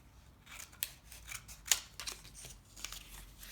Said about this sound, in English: then cut out wing shapes